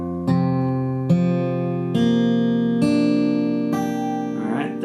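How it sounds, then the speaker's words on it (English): Acoustic guitar tuned to drop D with a capo at the 3rd fret, single open strings plucked one after another, five ringing notes each left to sustain, close and clear with no talking. "that is just standard tuning with that low E drop down to a D"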